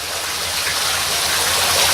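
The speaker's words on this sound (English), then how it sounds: "it's a nice steady stream coming down right in front of that ghost" Garden fountain streams pouring steadily into a pond at a haunted tent setup, a continuous bright splashing wash of water that swells slightly louder over the two seconds.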